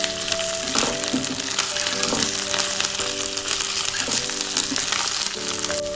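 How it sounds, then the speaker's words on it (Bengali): Onion and ginger paste frying in a pan, a steady bright sizzle with intermittent stirring scrapes, close and continuous, while music plays softly underneath. "এবার আমি আদা পেস্টটা দিয়ে পেঁয়াজটার সাথে মিক্স করে নেব।"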